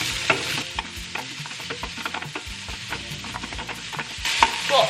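Chopped onions fry and sizzle in a pan for fried rice, a steady close hiss with scraping and stirring knocks throughout, loudest at the start and end.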